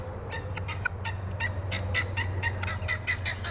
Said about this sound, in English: I'd call that a guard guinea. Do you hear that single syllable, guys?